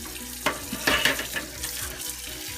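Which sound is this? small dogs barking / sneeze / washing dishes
washing dishes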